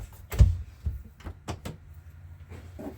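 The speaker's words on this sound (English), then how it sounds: "This guy does pop open and this would go through and it flings open so you could get out." A hinged fire escape window on a 2020 KZ Connect C312BHSKE bunkhouse RV pops open with a few close, dull knocks and clunks, followed by softer rattles.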